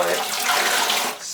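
A caulking sponge being sloshed and rinsed in a bucket of warm water, a close, continuous splashing and trickling that tapers off at the end.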